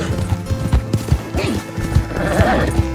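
Horse hooves clip-clop at a fast gallop in a video game, a steady close rhythm with a whinny and other game sounds layered on top.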